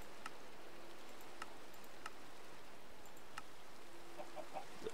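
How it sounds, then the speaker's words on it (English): A chicken in the Minecraft video game clucks in short, faint bursts over a steady hiss of game ambience, with no voices present. "Bloody chicken scared the bejesus out of me."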